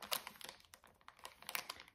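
A paper-wrapped surprise package being unwrapped by hand, heard as close, quiet crinkling and rustling with irregular crisp bursts of paper noise.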